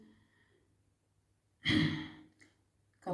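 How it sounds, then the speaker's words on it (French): A single deep exhalation of breath during a calming breathing exercise, a close, airy sigh that swells and fades over about a second, followed by the start of another breath. "J'inspire, je rentre le bas-ventre et j'expire."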